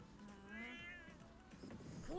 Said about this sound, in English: That's one happy cat, dude.